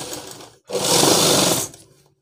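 A sewing machine stitches a shirt sleeve, a short quiet whir followed by a brief loud burst of rapid needle clatter that winds down quickly.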